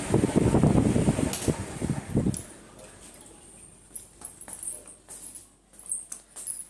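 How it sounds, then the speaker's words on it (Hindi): An air cooler's steady broadband whoosh fills the room for about two seconds, then cuts out abruptly, leaving a quieter space with scattered light clicks and small household knocks. "चलिए सबसे पहले चल के ना कूलर बंद कर दे, क्योंकि इलेक्ट्रिसिटी का बिल बहुत ज़्यादा आता है यहाँ पे"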